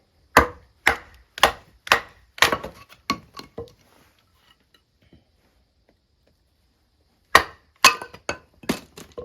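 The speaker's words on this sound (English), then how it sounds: "let's see how the knife does at batoning" The Worktuff Voyageur Gen 2 knife is batoned through wood: a run of sharp, loud knocks in quick succession, then a long pause, then another burst of strikes, close and with no talk.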